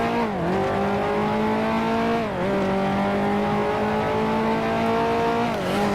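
A 1955 Formula One car in the Grand Prix Legends sim at Monaco, its engine droning steadily in third gear through the chicane, pitch dipping briefly twice as the driver lifts, loud and close throughout.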